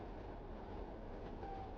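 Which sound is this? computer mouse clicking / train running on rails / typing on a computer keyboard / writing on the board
train running on rails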